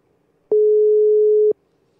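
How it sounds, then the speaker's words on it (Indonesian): A telephone tone sounds while a call is being placed: one steady, clear one-second beep that stands alone in an otherwise quiet line. "Gue langsung telepon aja Biancanya kali ya."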